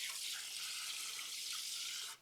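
Water rushes steadily through the water level system of a Wazer Pro waterjet cutter, a continuous close hiss that holds evenly and then cuts off abruptly at the end, with no voices.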